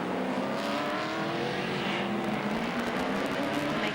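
Speedcar Series race cars circling the Dubai circuit in 2009, engines droning steadily at a moderate distance with a continuous, slightly shifting whine and no voices over it.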